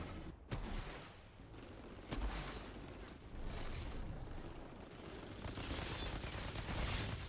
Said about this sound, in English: Look, you see the bullets flying?